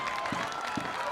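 A crowd at a boys' high school lacrosse championship between Gonzaga and St. John's cheers and applauds in a steady, broad roar, heard at a distance as a short stretch.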